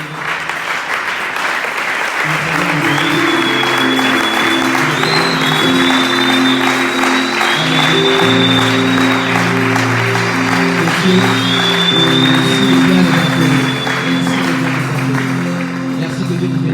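A congregation at a church conference in Congo applauds and cheers loudly and steadily, sustained clapping with a few whoops over a musical backing.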